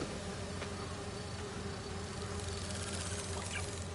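Virtual bee wolves buzzing in Marvel's Spider-Man 2, a faint continuous insect hum and drone with no talk, steady throughout.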